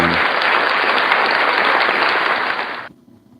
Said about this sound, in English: give a little bit of applause for that